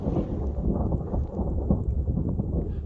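Distant thunder from a storm rolling in on the slopes of Pico de Orizaba, a continuous low rumble that swells and fades unevenly throughout, muffled and deep with no voices.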